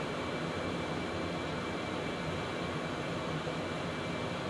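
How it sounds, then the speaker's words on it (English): A steady, even engine roar fills the cockpit of a Concorde climbing in the X-Plane 11 flight simulator, with an airy broadband hum and no talking. "You can hear the sounds of the airplane are changing just a little bit too."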